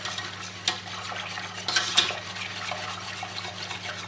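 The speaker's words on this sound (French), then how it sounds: "on mélange jusqu'à ce que ça épaississe" A spoon stirs chocolate cream with milk and starch in a pan as it thickens, giving a steady soft scraping and swishing with a few sharper clinks, close and alone over a low hum.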